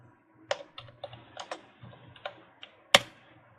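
Scattered clicks of fingers typing on a computer keyboard, a short irregular run of keystrokes in a quiet room, with one sharper tap near the end.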